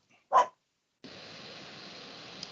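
During an online meeting, a dog gives one short, sharp bark, then a steady background hiss of an open microphone follows.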